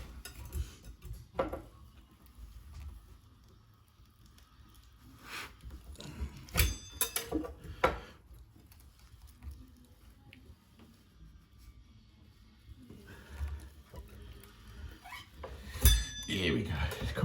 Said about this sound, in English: Time for the old wallpaper scraper trick to get the bowl off